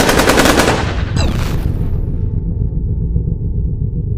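A loud volley of rapid gunfire rattles out at close range for about a second and a half, followed by a crackling burst and a low sustained rumble with a faint steady hum as it dies away.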